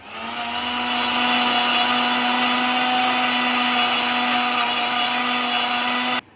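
A kitchen blender whirs steadily, grinding spices and aromatics into a paste for chicken biryani, loud and close for about six seconds before cutting off abruptly.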